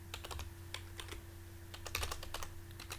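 Quick, close keystrokes clatter on a computer keyboard in irregular bursts over a faint steady hum, with no talking.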